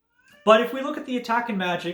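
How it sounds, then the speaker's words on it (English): A pet cat, a female, whines and mewls behind a closed door in a home, with her plaintive cries running under steady close-up speech from a person talking throughout. "that is our cat whining because the door is closed on her"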